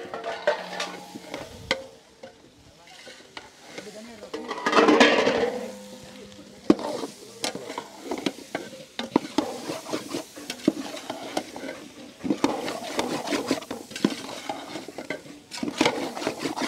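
Boiled, cut potatoes stirred in a frying pan for a wedding-style Nellai potato curry, with continuous sizzling and the scrape of a utensil against the pan, steady and close.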